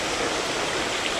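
Waterfalls in an enclosed canyon, a steady dense hiss of rushing water filling the whole short stretch with no voices.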